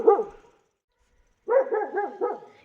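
A dog barks at night up on a house roof: one sharp bark, a short silence, then a quick run of four or five yelping barks, close and loud with no talking.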